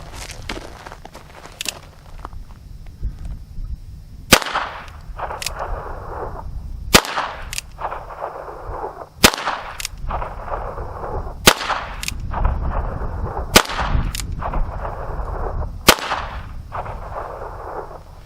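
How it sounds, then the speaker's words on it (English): Seven sharp shots from a Chiappa 1873-22 single-action revolver loaded with American Eagle rounds, fired at a target about 8 yards away, spaced a couple of seconds apart with quiet handling between. "I have 6 rounds of American Eagle. Again, brand new, haven't shot it, don't know where it's hitting, so gonna shoot my target here at about 8 yards"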